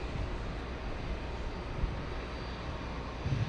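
A Boeing 747-8 races down the runway on takeoff at JFK airport, heard as a steady, broad, distant jet roar that holds evenly throughout with no voices over it.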